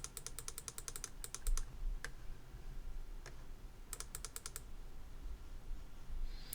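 Rapid bursts of light computer clicking and keyboard tapping, sharp and close, in quick clusters separated by pauses and over quiet room noise, while working in Blender 3D software.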